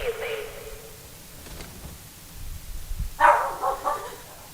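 In Fallout 4, the companion dog gives two short barks, one at the start and a louder one near the end, with faint game noise and a voice in between.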